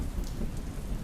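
Steady, loud rain falling on a surface, a dense continuous hiss with faint drop detail, with a narrator's voice speaking over it.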